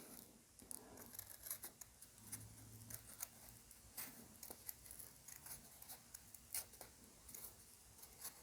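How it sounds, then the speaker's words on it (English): Scissors snip through folded paper, cutting carefully along a drawn line for a spring chick craft, with soft, close crisp clicks and rustles repeating in an uneven rhythm and no talk. "I'm just going to cut it out very carefully."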